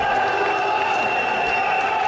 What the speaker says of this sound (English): The crowd getting absolutely wild now